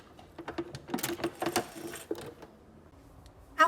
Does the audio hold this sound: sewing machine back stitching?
yes